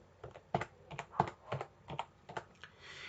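A username and password typed on a computer keyboard, short irregular bursts of close, crisp key clicks with brief pauses between, quiet and alone.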